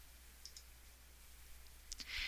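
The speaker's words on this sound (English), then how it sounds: "And then by right mouse clicking" A single right-click on a computer mouse, a short, quiet tick near the end of a hushed stretch with faint background hiss.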